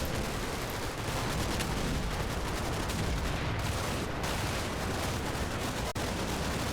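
Sustained dense gunfire and small-arms fusillade from the WWII Normandy wargame Combat Mission: Battle for Normandy, with supporting machine-gun fire, rattling continuously and loudly throughout with a sharp crack near the end.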